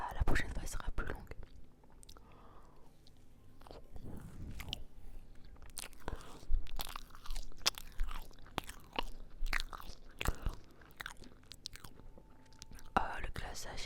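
A small carrot cake with icing is eaten up close in soft, sticky bites and crunchy chews, with quiet whispering in French between mouthfuls and occasional louder smacks.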